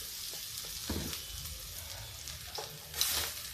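Moong dal roasting in oil or ghee in a kadai over a low gas flame, a steady soft sizzle with a few scraping stirs and one brighter scrape near the end, close and quiet, with no talking.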